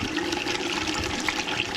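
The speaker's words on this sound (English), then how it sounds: "This is flushing out this loop at least a little bit" Water rushes steadily through the loop of a steam boiler as it is flushed, a continuous close gushing and trickling with no breaks.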